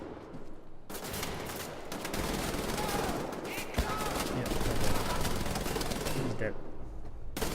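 Sustained automatic gunfire in Wolfenstein: The New Order, a dense loud barrage of rapid shots that starts abruptly and runs almost continuously, with a voice briefly over it.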